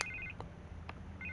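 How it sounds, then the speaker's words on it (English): A telephone rings in the Batman Telltale Series video game, giving short, repeated electronic trilling bursts over a low background hum. "I can't get the phone to stop ringing"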